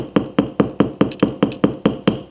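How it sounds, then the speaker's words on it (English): Hammer striking a metal jewelry blank, ten sharp metallic taps in a steady rhythm about a quarter second apart, close and loud with brief ringing after each blow. "So I just switched to the flat side of my hammer"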